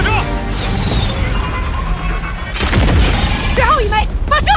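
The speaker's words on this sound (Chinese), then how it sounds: "2号炮塔立刻开火，2号发射" A turret firing a shell in the animated series Ling Cage, heavy booming blasts with crashing impacts over loud battle noise, mixed with a tense score, while voices speak over the action.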